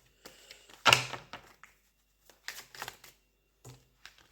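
Playing cards being handled and shuffled close up, a sharp riffle followed by several softer clicks and flicks with quiet gaps between them.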